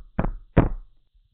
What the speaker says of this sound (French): Elle frappe de nouveau à la porte.